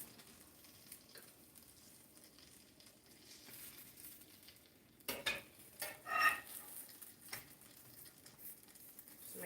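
A blueberry pancake is flipped in a pan, with a low sizzle followed by a short burst of scraping and clattering from the spatula and pan.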